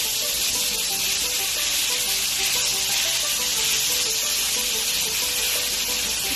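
Turkish chicken kebabs sizzle on a barbecue grill in a loud, constant, bright hiss of frying that holds steady throughout, with no talk over it.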